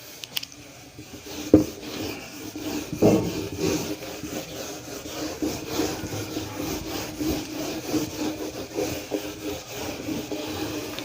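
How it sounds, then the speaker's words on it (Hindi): Writing being rubbed off a board during a maths lesson: a steady scratchy rubbing that swells and fades for several seconds, with occasional louder strokes and no talking. "अब रब कर दूं इसको।"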